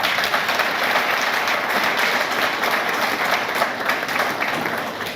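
An audience at a regional gathering applauds steadily, a dense continuous wash of clapping from many hands at fairly close range, without talk.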